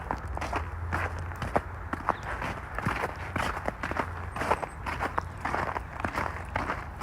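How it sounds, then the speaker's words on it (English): Footsteps at the Evergreen Brickworks, a steady run of walking steps crunching and thudding on ground nearby, continuous throughout with a low rumbling background and no talk. "I hear footsteps."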